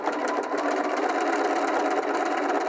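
Bernina 325/335 sewing machine stitching a tulip pattern, a close, loud, continuous rapid mechanical whirring and ticking throughout.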